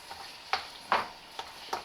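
Ground beef and sausage stirred together in a hot pan, giving four soft scraping strokes spaced about every half second over a faint sizzle, close and quiet.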